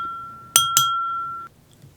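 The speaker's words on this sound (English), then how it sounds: "The pleasant chime of a silver butter knife against a crystal wine glass cut through the laughter and side chatter" A silver butter knife taps a crystal wine glass twice in quick succession, each strike leaving a clear, sustained ringing tone that fades after about a second in a quiet room.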